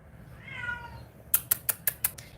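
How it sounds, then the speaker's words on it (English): A female cat in heat yowls with a drawn-out, wavering cry, followed by five sharp, evenly spaced clicks, like keyboard taps, close by. "It sounds like she's in pain, but she's not. She's just crying out for cats"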